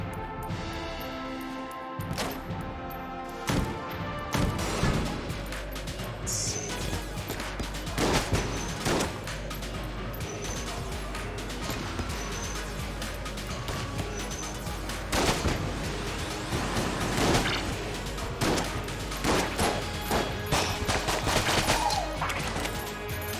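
In the video game Enter the Gungeon, a trick gun that switches between pistol and shotgun fires over a busy action soundscape, giving repeated sharp blasts and crashes in irregular clusters, loud and continuous.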